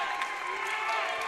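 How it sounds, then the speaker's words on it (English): Football crowd at a Northern Ireland versus England match erupting after Northern Ireland go 1-0 up, a loud sustained roar of cheering and applause filling the stadium, with commentary carrying over the top. "the crowd go crazy"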